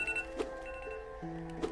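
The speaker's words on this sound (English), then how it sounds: "I just had my timer go off for the episodes" A timer alarm rings out in repeated electronic tones with a steady, bell-like buzz, fairly close and clear over a soft background hum.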